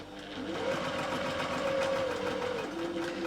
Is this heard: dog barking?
no